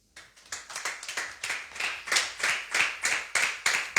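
A church congregation claps in a steady rhythmic beat, about ten sharp, even claps over a few seconds, close and lively, with no voices over them.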